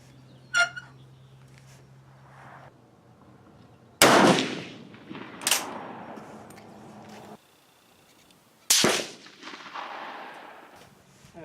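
Three loud rifle shots from a 1945 Swiss K31 at an outdoor range, each a sharp close blast with a decaying echo tail, spaced several seconds apart, with a faint click before the first.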